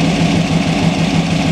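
A T-bucket hot rod engine idles slightly high, a loud, close, steady low rumble with a constant throbbing pulse and no voices.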